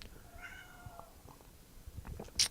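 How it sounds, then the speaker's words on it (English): A pet cat meows faintly in the background, a couple of soft drawn-out calls early on and a brief sharper sound near the end, with no talking. "I'm gonna let my cat out, making a little bit of noise in the background."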